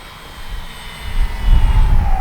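Twin-engine RC B-25J Mitchell scale bomber model flying overhead with both engines running, a steady drone that swells louder toward the end as it passes closer.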